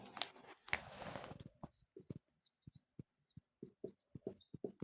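Chalk or marker strokes on a classroom board during a physics lesson, a quiet series of short scratchy taps and scrapes in an irregular rhythm, with a brief voice at the start.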